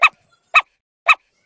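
Three short, sharp dog barks spaced about half a second apart, crisp and fairly close, out on a street with nothing else sounding between them.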